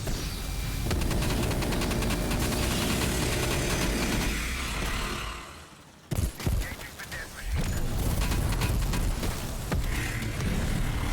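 The Death Machine gun fires in a zombies video game, a dense, loud, continuous fusillade of rapid shots with one brief pause before the firing resumes.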